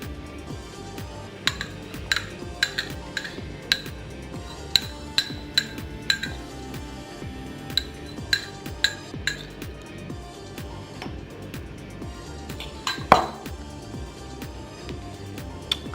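A glass shot glass and utensils in a kitchen while sauce for protein French toast is poured, giving repeated light, bright clinks and taps scattered over the stretch, close and fairly faint, with a slightly louder knock near the end and no talk.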